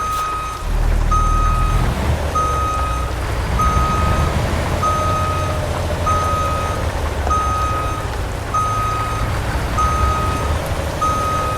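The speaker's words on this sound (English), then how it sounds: "can I back this trailer into that spot?" A truck in American Truck Simulator backs up a trailer, its reversing alarm beeping in a steady evenly spaced pattern over a loud low diesel engine rumble, with a faint hiss near the start.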